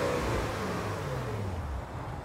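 A Porsche Cayenne GTS engine revs with a throaty, rising growl that holds steady and then eases slightly, heard up close and without anyone speaking.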